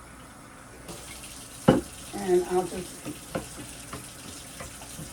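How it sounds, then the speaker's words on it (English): Tap water runs into a container in a home kitchen, a faint hiss followed by a short splashing pour and a few drips and clinks, with someone speaking softly over it. "I'm just gonna add some water to it and sit it in the freezer"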